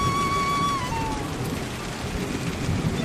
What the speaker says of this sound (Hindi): तभी बारिश बहुत जोर से होती है।